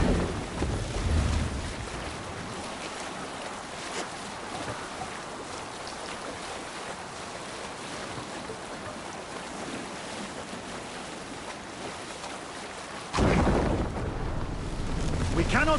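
Wind and rolling ocean waves around a Viking longship under sail in Assassin's Creed Valhalla, a steady broadband rush that swells louder near the end, with faint voices underneath.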